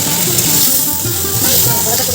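Rice, dal, peanuts, green chillies, dried red chillies, bay leaves and whole cumin sizzle loudly and steadily in a frying pan, close to the microphone.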